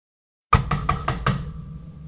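Five firm knocks on a wooden door in a cartoon, evenly spaced and close, each ringing briefly, breaking a silent start and leaving a lingering room tone afterward.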